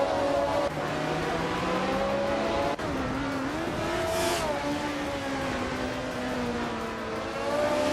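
Several race cars in a video game run close together, their engines droning loud and continuous with shifting pitches as they battle side by side, plus a brief whoosh of a car passing partway through.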